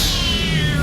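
A cartoon cat in a Motu Patlu animated episode lets out a single loud, drawn-out meow with a descending pitch, close and filling the whole moment.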